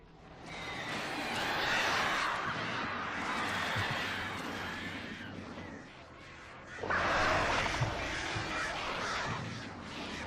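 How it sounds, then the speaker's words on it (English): Crows cawing in the Alan Wake video game, two long bursts of harsh overlapping calls from a flock, loud and close, with a short lull between them. "Birds."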